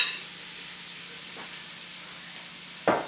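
White onions, celery and orange, red and yellow peppers sauté in a pan with a steady, soft sizzle, broken by a sharp clatter near the end.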